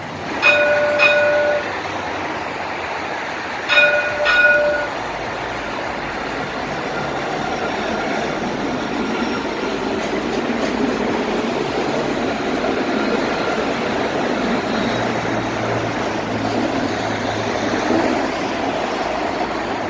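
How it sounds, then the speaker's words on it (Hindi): A Dubai tram pulls into Marina Mall station; a couple of short bright horn or signal tones sound early, then a steady rumbling roar of the arriving tram and station ambience continues throughout, with no talking. "ये देखो आप, ये आ गई है एक ट्रैम"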